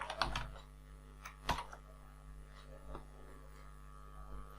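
Someone types a filter function into an Excel spreadsheet on a computer keyboard, with scattered clicky keystrokes, a few sharper taps, over a low steady electrical hum, no speech.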